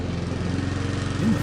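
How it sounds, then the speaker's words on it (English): A lawn mower engine drones steadily at close range while mowing, a rough, even buzzing hum with a slight rise near the end and no speech. "don't tell anybody about this that I'm mowing right now"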